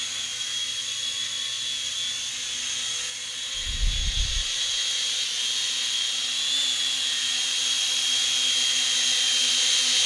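A small drone hovers with a steady, high-pitched whine that fills the whole stretch, and a brief low thump breaks in about halfway.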